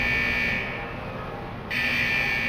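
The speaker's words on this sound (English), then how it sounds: "Those alarms indicate that we're encountering some minor technical difficulties with the fusion press" Alarms blare at the fusion press in World of Warcraft, a loud continuous high-pitched buzzing tone with a piercing upper whine that drops out briefly and then returns, steady and unbroken over a low mechanical rumble.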